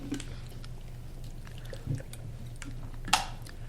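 Water is poured into a glass in a quiet room during a podcast conversation: a soft, faint trickle over a low steady hum, with one brighter splash near the end.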